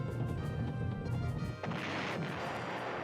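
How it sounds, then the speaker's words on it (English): Artillery fire in the PlayStation 1 war strategy game Panzer General: a dense rumbling barrage of booms fills the first half, then a sharp crack gives way to a hissing, crackling wash of explosion debris, moderately loud and without talk. "There's the artillery."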